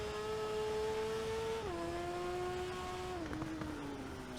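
A racing sidecar at the Isle of Man TT, ridden into Ramsey, holds a loud, steady engine drone that steps down in pitch twice at gear changes, continuous and close throughout with no voices.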